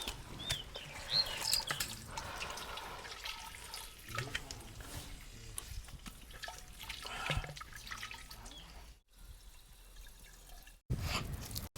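Water runs from a hose pipe in a continuous, splashy, dripping stream. It is fairly close, with a few brief gaps near the end and no talking.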